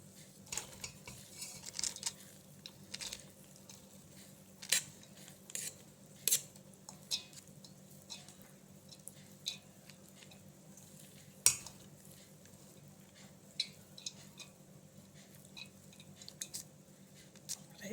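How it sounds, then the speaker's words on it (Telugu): Marinated chicken being stirred and mixed in a pot for chicken dum biryani, with scattered metallic scrapes and clinks of a utensil against the pot, fairly faint and close, without talk. "ఫైనల్గా ఇప్పుడు మనం మ్యారినేట్ చేసి పెట్టుకున్న చికెన్ని మొత్తం ఒకసారి ఇలా మిక్స్ చేసుకోవాలండి"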